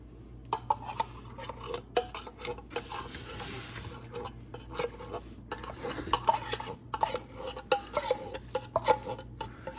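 A metal spoon scrapes caramel made with condensed milk out of a pot, giving repeated sharp clinks and rasping strokes at close range, with a faint steady hum underneath and no talking.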